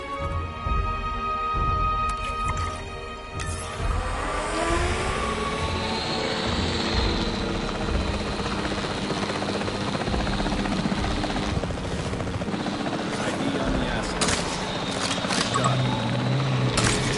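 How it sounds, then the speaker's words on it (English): Capture team helicopter in Jurassic World Evolution 3, a loud close rotor thrum and turbine whine that builds and holds steadily for many seconds, with a soft beeping tone at the start. "The priority needs to be tranquilizing it with the capture team chopper."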